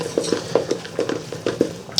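Dirty rice being stirred and mixed with fresh chopped parsley and green onions, a spoon scraping and clinking against the pot in a steady, close rhythm of soft knocks, with no talking.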